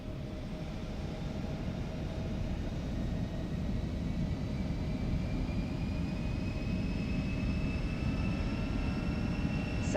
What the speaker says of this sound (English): auto throttle set to take off, and we're ready to roll